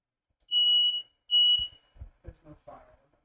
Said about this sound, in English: Hold on, that's my smoke detector being stupid.